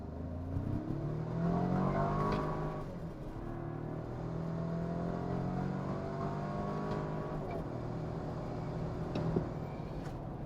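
A 2025 Toyota 4Runner Trailhunter launches hard from a brake-boosted start, its engine revving up through rising, droning tones with gear changes, loud and close throughout.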